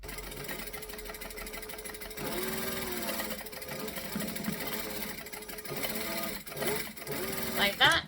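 A sewing machine stitches a seam at a 1/8 inch allowance, a close, steady mechanical whir running in long stretches, with a voice talking over it.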